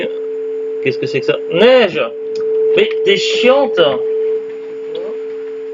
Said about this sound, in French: Ah, elle a allumé le téléphone là-bas à côté.